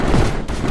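Spectre turrets in the Mindustry video game firing as a dense, continuous barrage of heavy gunfire, loud and sustained throughout without pause.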